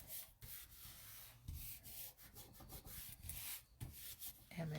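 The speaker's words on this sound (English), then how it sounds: "And then just rub it good to make sure it's down nice and flat." A hand rubs a layer of paper flat onto a card base, making a close, steady scratchy friction sound in repeated short strokes.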